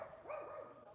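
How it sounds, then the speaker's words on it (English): Dogs bark and yip a few times in the middle distance, the barks sharp and close together, faint against light outdoor background noise in an old city. "Oh, we got dogs going crazy over here."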